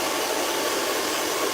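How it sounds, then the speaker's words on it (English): A hood hair dryer blows over freshly washed dreadlocks in a hair salon, a loud, steady, unbroken whooshing hum. "I'm gonna put it under the dryer"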